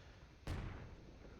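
A single artillery piece in the video game Call to Arms: Gates of Hell fires one sharp, booming shot, and a low rumble trails off behind it.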